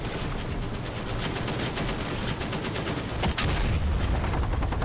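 Rapid gunfire in the combat flight-sim game DCS World during an ambush: dense overlapping bursts of automatic shots, loud and continuous, with heavier rattling near the end.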